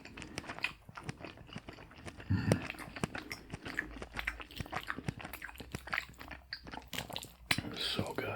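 Someone eating baked ziti and garlic bread up close in a soft-spoken ASMR setting: repeated wet bites and crunchy chewing, with quiet whispered talk woven between the mouth sounds.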